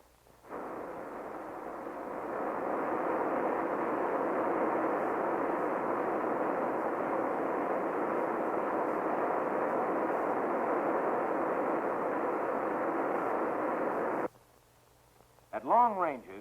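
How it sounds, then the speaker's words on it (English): A small North American Native test ballistic missile launches at Holloman Air Force Base, its rocket engine roaring as a loud, steady broadband rush for about fourteen seconds before cutting off abruptly. "This small ballistic missile with a range of 35 miles was launched at Holloman Air Force Base"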